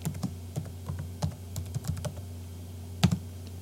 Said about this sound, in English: And as soon as you type it correctly, like I just did there, after a false start